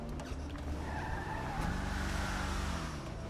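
Car engine in GTA Online, driving steadily with a drawn-out tire skid and squeal partway through, loud and close with no talking.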